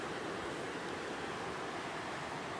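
A river flows steadily beside its rocky bank, making a dense, unbroken rushing wash with no voices.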